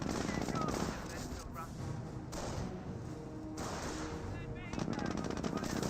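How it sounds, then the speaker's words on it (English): Panzer Grenadiers firing G43 rifles in the Company of Heroes war game, with repeated gunfire crackling in bursts over a constant battle din and some distant booms, mid-distance and moderately loud. "Panzer Grenadiers of G43s firing away"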